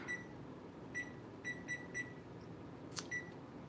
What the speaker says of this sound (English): let me go ahead and put the timer on for 40 minutes